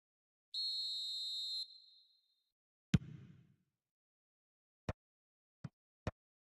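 A referee's whistle signals offside in a football video game: one clear, sharp blast of about a second, then a dull thump and a few faint clicks.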